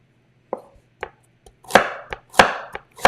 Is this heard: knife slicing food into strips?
yes